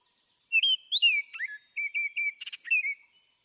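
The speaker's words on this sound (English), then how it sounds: "this is what a Baltimore Oriole sounds like" A Baltimore Oriole sings a clear, whistled song of short fluting phrases, a few slurred notes followed by a quick chattering burst, heard close and alone against silence.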